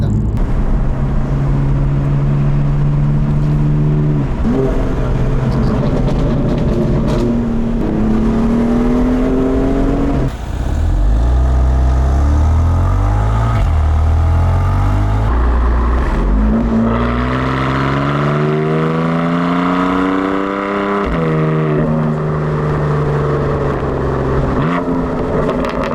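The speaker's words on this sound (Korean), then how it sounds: "M4는 과연 어떤 팝콘 소리로 약간의 멈출 때 운전의 재미를, 귀르가짐을 선사해 주는지 한번 테스트를 해보도록 하겠습니다" A BMW M4 engine revving hard and continuously, its loud drone sweeping up and down in pitch across repeated throttle blips, with a brief dip midway and no voices.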